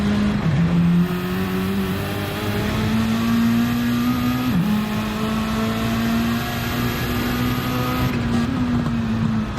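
Racing cars in a Group A touring car championship race, a loud, steady engine drone holding near one pitch with brief dips at gear changes, continuous throughout without talk.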